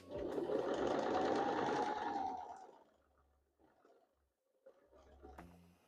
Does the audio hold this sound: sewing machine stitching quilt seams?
yes